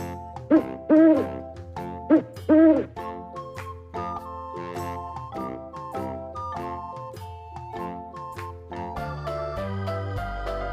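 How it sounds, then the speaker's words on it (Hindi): An owl hoots in two clear double calls near the start, set over light tinkling children's-song music that carries on to the end. "O for owl. Owl माने उल्लू।"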